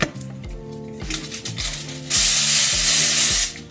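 Olive oil sprayed into an air fryer basket: a steady hissing spray that fills the second half, following several rhythmic mechanical clicks and pumps, close and fairly loud with no talking.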